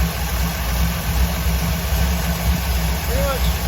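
A 1955 car's engine idles after six months dormant while its idle screw is adjusted for highest vacuum, a steady, close, low rumbling drone with an even, unchanging pulse throughout.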